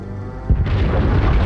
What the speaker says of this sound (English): I do love a good artillery strike.